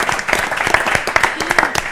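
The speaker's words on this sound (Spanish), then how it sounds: "te llevas este gran aplauso que nace del corazón" An audience claps at an international award ceremony, with scattered individual hand claps building into applause heard close and moderately loud, and speech mixed in.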